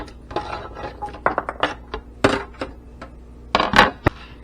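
Pieces of red squirrel meat are slid into a crock pot for stew, giving a series of close, irregular clinks and knocks of metal and ceramic with short pauses between them.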